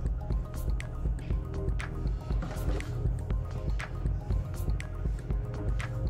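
A spatula scrapes and pushes ingredients down into a Thermomix bowl while making a fish stock concentrate, giving soft, wet squishing and dripping sounds with light knocks repeating close by.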